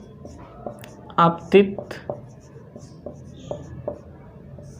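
Chalk or marker tapping and scratching on a board in a Hindi physics lesson on reflection of light, several short strokes heard under a teacher's speech.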